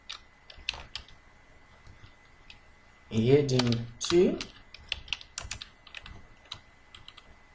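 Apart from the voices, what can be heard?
typing on a computer keyboard while filling table cells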